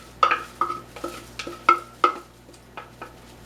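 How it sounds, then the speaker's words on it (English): Coffee crumb cake batter scraped with a small spatula from a bowl into a lightly greased 9x9 baking pan: a string of about eight close, sharp clinks and scrapes with a slight metallic ring, no talking. "I'm just going to pour this in a 9x9 pan"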